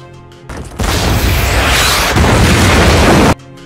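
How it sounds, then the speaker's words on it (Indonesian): Rebel soldiers bomb a building in a massive, sustained explosion: a loud roaring blast that swells and rumbles for nearly three seconds before cutting off abruptly. "tentara pemberontak langsung mengebom tempat itu"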